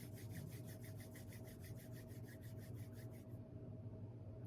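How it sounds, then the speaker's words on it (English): Palms rubbed together at the close of a quiet meditation session make a steady run of soft, rhythmic swishing strokes over low room hum, stopping about three seconds in. "Gently rub the palms together."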